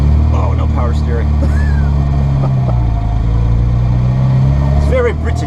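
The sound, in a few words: engine of a 1987 Mini Cooper running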